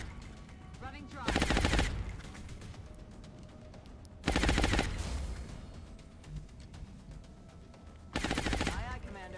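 Squad gunfire in the strategy game Long War, three separate loud bursts of rapid automatic fire a couple of seconds apart, each followed by quieter game ambience and voice lines.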